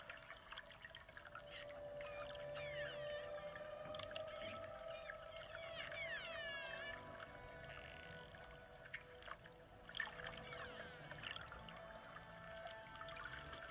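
Dolphins vocalize underwater, with faint rising and falling whistles and chirps drifting over a steady low tone and a soft watery hiss, quiet and distant throughout.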